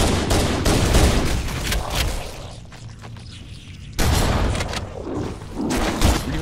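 The Halo 1 shotgun in Halo: Combat Evolved fires in loud, heavy blasts, several booming shots in quick succession, with a brief lull in the middle before the firing resumes.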